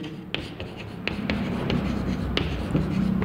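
Chalk or marker writing out subject lines on a board in a lecture room, a steady scratchy stroking with small taps at each new letter, close and continuous with no voice.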